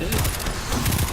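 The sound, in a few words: pulse rifle firing in video game Destiny 2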